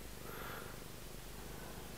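A pet cat purrs softly and steadily while being stroked, a faint low continuous rumble with no voices.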